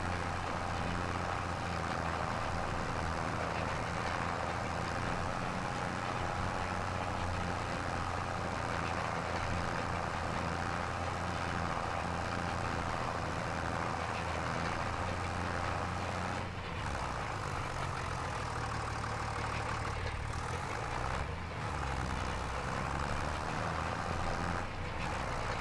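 A tractor engine labours up a hill in the Farm Sim 25 video game, a steady, continuous droning rumble held for a long stretch with little change and no talk.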